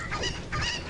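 A Cucco chicken in Legend of Zelda: Ocarina of Time squawks in two quick, loud honking bursts, close and alone.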